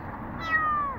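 An abandoned cat by a cardboard box lets out a single short, thin meow, close and fairly clear over faint background noise.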